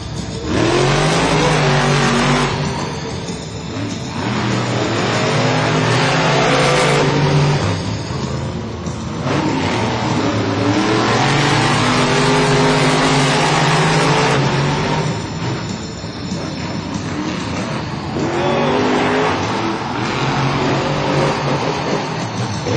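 Monster trucks race in a packed stadium at a Monster Jam event in San Diego. Engines roar loudly and continuously, rising and falling as they rev and accelerate hard over several passes.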